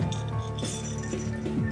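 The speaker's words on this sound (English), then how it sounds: "what happens if you shake a range of colored balls out of a glass container" Colored gumballs rattle and clink as they are shaken out of a glass container, a quick scatter of light, bright glassy ticks and knocks tumbling over one another.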